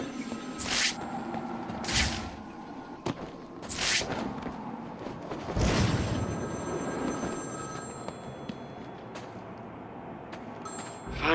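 A telephone rings repeatedly in Batman: Arkham City, bursts of bright bell trills spaced about two seconds apart over a low ambient game backdrop, with no talking.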